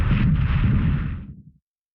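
Bombs exploding during port attacks in the war strategy game War Plan Orange: a loud, deep, rumbling blast that sustains for about a second, then fades quickly into silence, with no voices.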